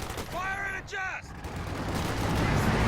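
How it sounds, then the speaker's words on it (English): Bulldozer tank shell in a World War II strategy game firing and detonating, a booming blast followed by a long rumbling roll of explosion noise, with a voice heard briefly over the start. "So mine luckily gets detonated there by a bulldozer shell."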